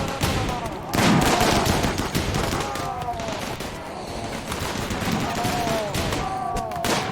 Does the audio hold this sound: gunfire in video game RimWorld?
yes